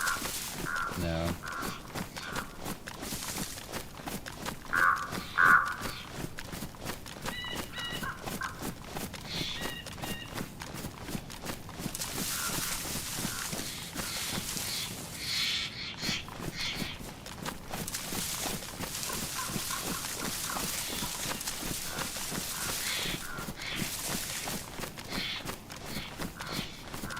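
Crows caw repeatedly in the DayZ video game, mixed into a dense ambient bed of steady footsteps or clip-clop rhythm and outdoor noise that runs continuously throughout.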